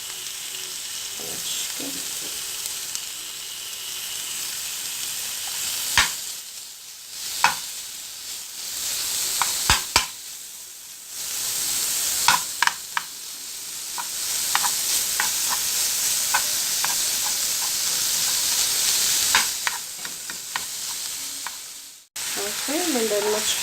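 Kofta frying with onions in a pan, a constant close sizzle running throughout with repeated sharp stirring clicks and scrapes; a voice briefly speaks near the start.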